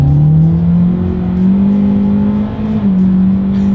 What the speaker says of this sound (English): let's see how quickly we can get our new 2023 Elantra here up to speed